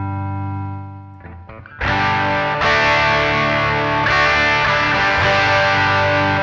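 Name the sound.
guitar through amp emulation with overdrive pedal and reverb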